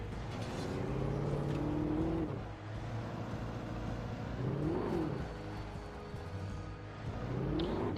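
A car driven in the Alan Wake video game, its engine drone steady and fairly loud throughout, rising and falling in pitch as it accelerates and eases off, with no talk.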